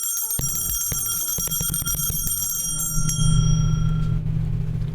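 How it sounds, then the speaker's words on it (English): A streamer's bell for a 2-year Prime subscription is struck several times in quick succession, bright ringing tones that hang and fade over a low hum. "That means we ring the 2-year bell like the Prime bell"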